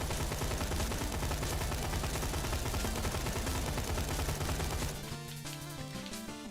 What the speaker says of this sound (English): So, right now, we're just shooting.